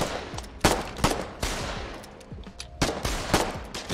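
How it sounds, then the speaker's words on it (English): Shotguns fire in a video game, several loud, punchy blasts at irregular intervals, some overlapping amid ongoing combat clatter. "Shotgun."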